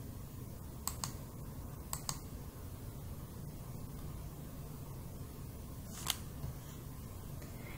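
Sharp mouse clicks come in a quick pair, another pair and a later single click, crisp and close over a quiet computer-room hum with faint scattered ticks.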